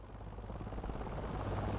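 A Hiller UH-12B helicopter in Microsoft Flight Simulator, its rotor making a continuous rhythmic thumping chop over a steady engine drone, loud and close throughout with no speech.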